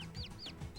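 Chickens cluck in a PS1 3D platformer video game: a few short, quiet, rising squawks spaced across a brief moment over low background noise, with no talking.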